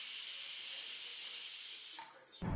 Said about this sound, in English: So that's why I bought a pressure cooker.